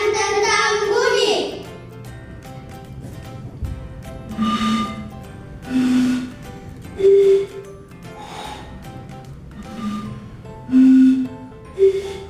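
Children blow across bottles, producing a series of short hollow breathy tones at differing pitches, each a separate puff with pauses between, close up.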